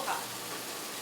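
Steaks sizzling on a hot flat-top griddle, a steady broadband hiss of frying fat holding evenly throughout at moderate, close level with no talk.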